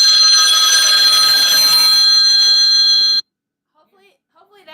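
A phone rings loudly and close during a home live stream, a bright, continuous electronic ringtone lasting about three seconds before cutting off abruptly, followed by near silence with faint traces of movement.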